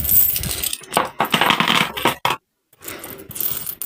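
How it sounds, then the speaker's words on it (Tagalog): Coins dropped into a bottle for weekly savings, a series of close metallic clinks and rattles in several bursts with a short pause near the middle. "Every Sunday, lahat ng barya natin ay kailangan natin ishoot dyan"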